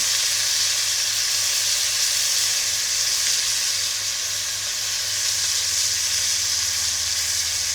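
Thin, soft pork chops browning in a hot pan, a loud, steady sizzle and crackle of frying close up, continuous throughout with no talking.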